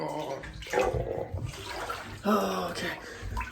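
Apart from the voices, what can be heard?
water sloshing as person gets into cold bathtub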